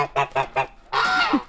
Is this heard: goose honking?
yes